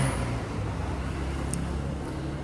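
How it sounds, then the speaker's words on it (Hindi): A steady wash of road traffic from passing vehicles fills the space, a dense continuous roar with a faint brief chirp partway through and no one speaking. "आवाज़ आ रही होंगी आपको गाड़ियों की"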